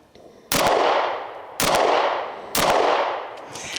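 Three sharp pistol shots from a small concealed-carry VP9A1K handgun, spaced about a second apart, each a loud crack with a decaying echo tail at close range.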